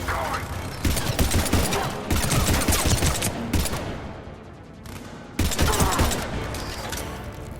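Sustained automatic gunfire from a Mass Effect 3 firefight roars in long, dense bursts with brief lulls between them. The shooting is loud and close, with some voices mixed into the combat noise.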